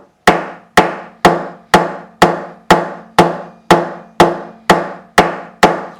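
Frets being tapped with a hammer into a Gretsch G5422 12-string guitar neck during a refret: eleven sharp, evenly spaced wooden knocks, close and clear, each ringing out briefly before the next.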